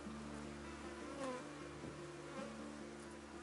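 Apis honey bees buzz in a dense, steady drone at an opened hive during a colony split. The swarm hums close and continuous, with individual wingbeats rising and falling.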